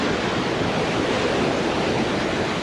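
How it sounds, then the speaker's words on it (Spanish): Iguazú Falls roaring with many separate cascades pouring down, a steady, loud, unbroken rush of crashing water that fills the whole moment without any voices. "Un montón de cataratas, distintas caídas de agua."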